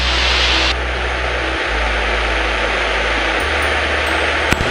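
Steady propeller drone of a Cessna light aircraft engine, heard from inside the cabin near a small airfield, loud and continuous with a brief pitch shift partway through.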